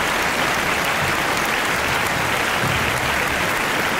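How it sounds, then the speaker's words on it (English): A round of applause for a podcast guest: steady, dense clapping from a small crowd, moderately loud and continuous throughout with no talk over it. "Give a round of applause for Pusha T."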